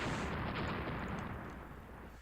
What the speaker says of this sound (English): We scored a torpedo hit.